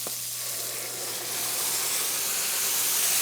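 Tomatoes dropped into a hot pan with shrimp, a loud steady sizzle and steamy hiss that swells slightly as it continues, close up.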